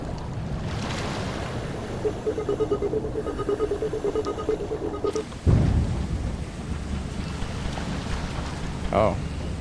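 Thunder in the Lethal Company video game, a deep rumbling boom that swells out of steady rain-like noise partway through, with a person talking over the game sound.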